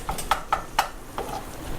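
A spatula mincing ground beef in a hot pan for tacos: three quick, distinct scrape-and-tap strokes in the first second, then softer stirring over a faint sizzle, close by with no voices.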